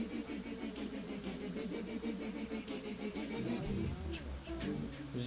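Vehicle engine in the video game Crash Twinsanity, a steady mid-pitched drone holding through the clip with a rougher rising surge near the end, no voices.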